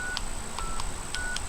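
DTMF dialing tones from a field phone on an 8-line PABX, a few short tone bursts in uneven rhythm over a steady line hum and hiss, close and clear, with no talking.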